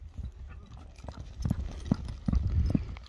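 A horse gallops downhill at a brisk pace, with hooves clip-clopping in an uneven rhythm that grows louder and closer toward the end, and faint voices in the background.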